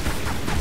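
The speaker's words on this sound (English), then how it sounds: "we shoot at him" Rapid gunfire aimed at a boss in a video game, a dense, continuous burst of overlapping shots that stays loud throughout the brief moment.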